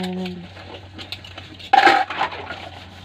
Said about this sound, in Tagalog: nagugas ko ng plato